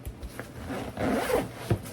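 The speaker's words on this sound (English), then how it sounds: "So I have to zip up the side here, right?" Close, loud zipper pulls running along the side of a duffel bag, a rasping stretch of zipping with small bumps and snags over two seconds.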